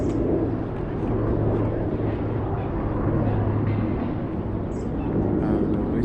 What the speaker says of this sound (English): Oh, it's a plane, it's a jet.